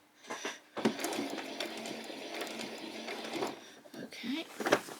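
A sewing machine stitches appliqué pieces onto a butterfly and bee costume, running in steady mechanical bursts through most of the stretch, with a woman giving brief spoken directions at the start and near the end.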